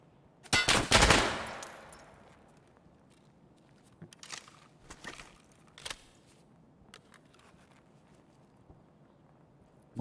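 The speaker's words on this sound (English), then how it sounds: "Getting shot at by other players." Gunfire from other players in Escape From Tarkov: a loud close burst of rapid shots opening the scene, then scattered fainter sharp cracks and distant pops spread out over the following seconds.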